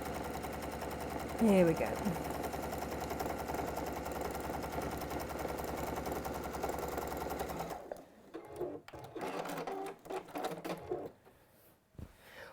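A sewing machine stitches fabric in a steady loud mechanical whir for several seconds, then stops, leaving clicks, handling noises and a brief spoken remark.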